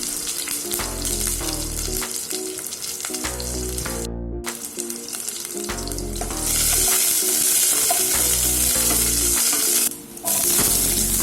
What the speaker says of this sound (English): To make the green gram dish, I have added mustard seeds into hot oil.